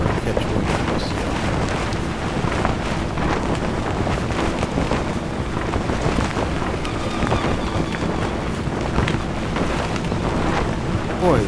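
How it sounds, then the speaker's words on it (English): A sailboat motors along under engine power in the sailing game Sailaway III, a steady, dense rumble mixed with wind and rolling water that continues without a break. "Let the engine drive me"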